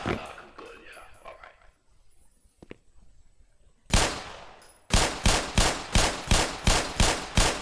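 Gunfire in the video game Black Mesa: a single loud blast, then a rapid regular series of about eight sharp shots, following a stretch of quieter mixed sounds.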